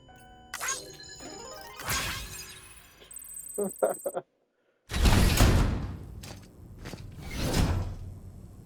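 A sci-fi video game door unlocks and slides open, with a run of clicking and beeping mechanism tones, a brief silence, then broad whooshing sliding swells, fairly loud and close.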